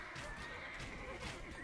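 Horses in Age of Empires II battle scenes give faint, repeated neighs and whinnies, layered over soft clip-clop hooves and the low clatter of fighting.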